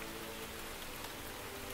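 Steady rain falling, a dense even hiss of drops on surfaces throughout, close and constant with no other sounds.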